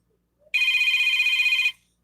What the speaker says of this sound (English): Why am I getting back-to-back phone calls?